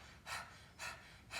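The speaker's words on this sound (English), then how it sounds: "try opening the mouth and panting like a dog" A person pants like a dog through an open mouth during yoga breathwork, giving three quick, breathy exhalations at an even rhythm, faint and close up with no talk.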